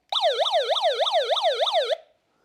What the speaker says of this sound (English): It actually has a siren on it, and I'll turn it on.